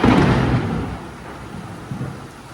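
A deep rumble of thunder rolls through a lightning storm, loud at first and then fading into a low, distant grumble.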